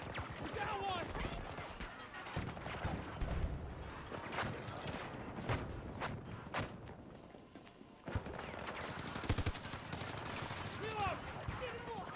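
Rapid gunfire from a Battlefield video game, with repeated shots and bursts running steadily through the scene alongside game sound effects and someone talking over the action.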